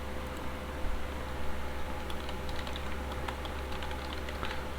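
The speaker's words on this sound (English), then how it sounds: "I'm typing my name" Steady typing on a computer keyboard, with quick light key clicks tapping along over a faint background hiss, no voices.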